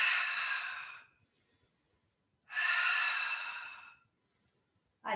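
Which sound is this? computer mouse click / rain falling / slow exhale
slow exhale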